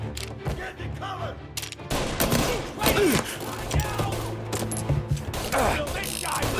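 Gunfire in Mafia Definitive Edition, a shootout of repeated loud shots and bursts in an uneven rhythm with thuds and mechanical clicks, over a continuous low game drone and music.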